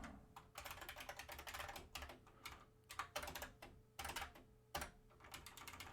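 Rapid typing on a computer keyboard while programming, with bursts of clicking keystrokes separated by short pauses, close and clear with no talking.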